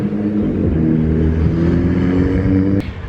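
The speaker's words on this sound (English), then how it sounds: "added background effects of the beeps of the horns from the traffic as well" Paris street traffic rumbles close and loud, a steady droning vehicle engine with tones that shift in pitch, ending in a sudden drop at the close; no voices.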